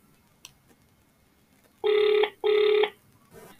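Phone ringback tone for an outgoing call to Maui Constructions, with two loud, even electronic rings in quick succession, each about half a second long. The rings sound clear and close over a faint background, with no talking.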